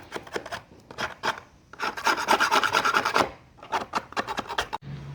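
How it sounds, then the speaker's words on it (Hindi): Rasping and rubbing to smooth the cut edge of a plant-pot mould, in bursts of quick scraping strokes with a longer steady stretch in the middle, close and fairly loud, with no talk. "कटे हुए हिस्से को अच्छे से चिकना कर लेंगे।"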